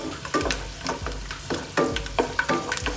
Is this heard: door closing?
no